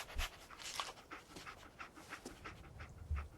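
Dogmeat, the dog companion in Fallout 4, pants steadily in rapid, even breaths, close and fairly quiet, with a few low thumps from the game around it.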